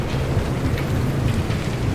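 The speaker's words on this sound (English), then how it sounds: "Lightning's getting close." Steady, loud rain with a low rumble of thunder rolling underneath, a continuous storm wash in the Pacific Drive game world.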